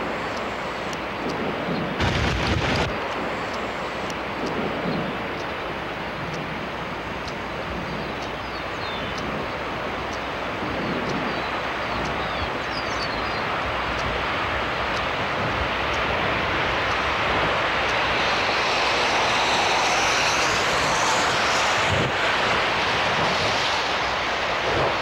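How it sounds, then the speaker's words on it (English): Strong storm wind roars continuously for a long stretch, a loud, close, broadband rush with occasional heavy buffeting thumps against the microphone and no talking. "Listen to the wind"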